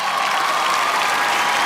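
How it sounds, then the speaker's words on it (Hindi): Audience applause for a guest called onto a stage at an entertainment show, steady and dense for the whole short stretch with no talk over it. "Okay, finally, तालियां for आलिया।"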